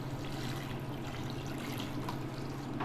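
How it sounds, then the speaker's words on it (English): Water poured into a pot of revithada, a Greek chickpea stew, to cover it, making a continuous splashing, gurgling flow over a low kitchen hum. "we're gonna put in enough water"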